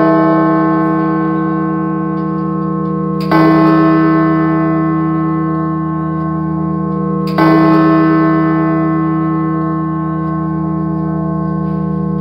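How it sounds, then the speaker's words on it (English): Great George, a deep E-flat bell weighing over 9 tons, strikes twice with long, humming resonance sustaining between strokes, loud and close with no voices. "It is reputed to be the finest E-flat bell in Europe and is one of the deepest toned bells"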